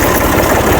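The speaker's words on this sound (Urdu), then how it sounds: "میں ٹریکٹر سٹارٹ کرتے ہوں" A tractor engine idling in a farmyard, a loud, close, steady diesel rumble with a dense low throb and no pauses.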